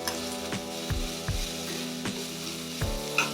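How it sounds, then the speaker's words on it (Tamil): Chopped onions and spring onions sauté with a pinch of salt in a pan for gobi manchurian, a steady close sizzle broken by several scraping stirs of a spatula, with no talking. "வெங்காயம் நல்லா வதங்குறதுக்கு, சாஃப்டாக வதங்குறதுக்கு கொஞ்சம் ஒரு சிட்டியே உப்பு சேர்த்துக்கோங்க."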